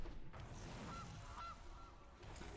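A goose in Magic: The Gathering Arena gives a few faint honks over a quiet background hum, short nasal calls close together.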